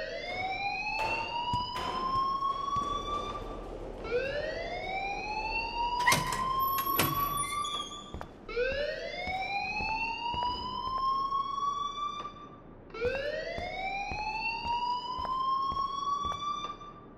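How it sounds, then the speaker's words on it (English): A school alarm wails in Life Is Strange, a loud rising siren-like tone that sweeps upward again and again in slow, regular cycles about every four seconds, with a few sharp clanks between sweeps. "please turn off that alarm since that's your job."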